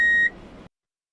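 A single short electronic beep tone used in a social conformity experiment, clean and steady for a fraction of a second, then cut off into silence.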